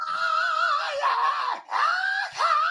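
A man's drawn-out, high, loud screams play back-to-back in long sustained cries with brief breaks between them.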